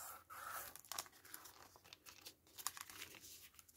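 Paper envelope being folded back on itself for a craft pocket, giving close, soft crinkling and crisp papery rustles in short bursts, with no talk over it.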